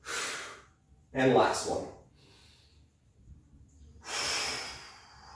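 Heavy, effortful breaths from a person working through an ab exercise on the floor, with loud gasping exhales and snorting bursts between short spoken cues, close to the mic.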